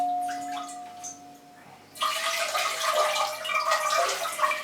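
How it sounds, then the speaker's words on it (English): Water is poured over the aerial roots of a potted Phalaenopsis orchid, a steady, close splashing trickle that starts abruptly and runs on without any talk. "I always try and pour some water over the aerial roots if I can."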